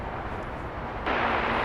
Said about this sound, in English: Heavy Boeing 787 departing parallel.